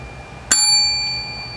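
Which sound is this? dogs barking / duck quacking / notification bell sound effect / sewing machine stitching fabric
notification bell sound effect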